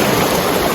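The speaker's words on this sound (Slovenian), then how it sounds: "Prepusti se zvokom valov" Ocean waves washing ashore by the sea, a steady loud broadband rush of surf with no voices over it.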